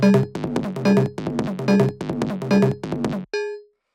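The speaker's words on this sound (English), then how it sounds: "So this is this operator bell. It's just playing G sharp." A synth bell patch from Ableton's Operator plays the note G sharp in a steady repeating rhythmic pattern, bright and close, then ends with one final ringing hit that decays into silence.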